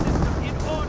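Rapid autocannon fire in the strategy game Company of Heroes, a dense, continuous burst of gunfire and heavy impacts that fills the whole moment with no pause.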